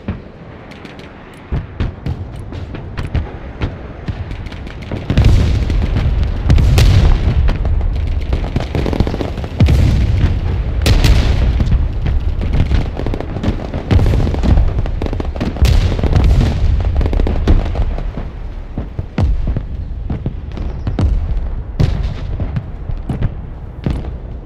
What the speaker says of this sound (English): What's this artillery, man?